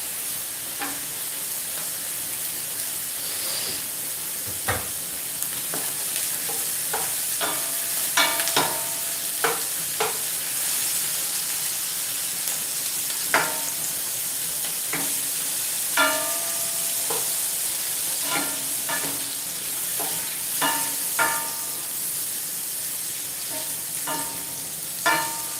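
Butter sizzles in a pan with a continuous hiss, broken by scattered clicks and scrapes of utensils against the cookware, close and moderately loud with no talking.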